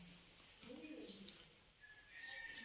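Small birds sitting close by, chirping and twittering softly in short, scattered calls against a quiet outdoor background.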